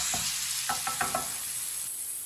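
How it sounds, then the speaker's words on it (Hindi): Spices frying in a pan over a low flame, a soft continuous sizzle with a few close scraping stir strokes in quick succession, then fading to a gentle hiss. "मसालों को 1 मिनट के लिए मैंने पका लिया है"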